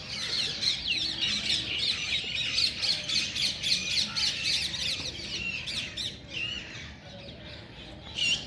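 Harsh, repeated squawking calls of an ostrich at Lake View Park in Islamabad, fairly close and loud, continuing steadily in overlapping bursts for several seconds.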